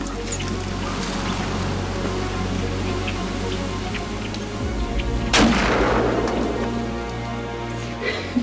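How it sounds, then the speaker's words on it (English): A single sharp rifle shot cracks out during a deer hunt, loud and close, with a sustained outdoor rumble and hiss before it and a short decaying echo after. "Good shot, honey."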